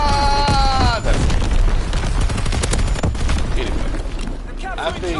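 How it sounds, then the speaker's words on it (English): Booming artillery explosions and bursts of gunfire fill a console war game, loud and dense throughout, layered under game radio chatter and a player's talk. "Incoming enemy artillery. Get to cover."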